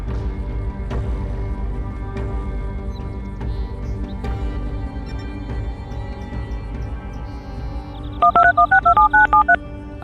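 Series of rapid DTMF keypad tones as a phone dials a taxi in GTA Online, eight short beeps near the end over steady background ambience and soft clicks.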